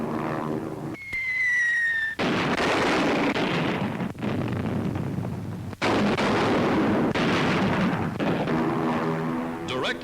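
Bombs dropped from a military aircraft in 1942 bomber training burst on a full-size replica enemy raider target, a sustained roaring blast with heavy rumbling and crackling, loud and close, broken by short gaps and a brief whistle early on.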